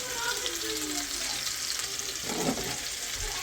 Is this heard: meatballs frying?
yes